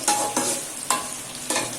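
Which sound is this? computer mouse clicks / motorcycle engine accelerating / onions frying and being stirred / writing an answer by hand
onions frying and being stirred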